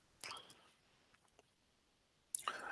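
Two sharp computer mouse clicks used to sort attendance and offering records in church management software, one near the start and another near the end, separated by quiet with faint small ticks between.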